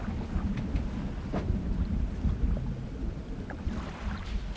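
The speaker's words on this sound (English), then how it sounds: "Storm brewing." A brewing thunderstorm at sea in the fishing video game Dredge: a steady low rumble of wind and rain washes over the boat, with faint distant thunder rolling underneath, no voices.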